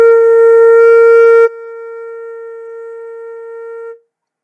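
A flute sustains a single B flat for about four seconds, steady and close, the first portion fuller and breathier before it settles softer and fades out cleanly.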